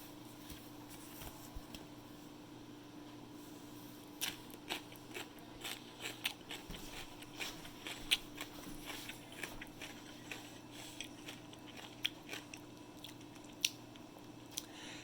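Someone eats raw purple daikon radish up close, with a string of crisp crunching bites and chewing that start slow and come more often toward the end. The sounds are quiet and nobody talks.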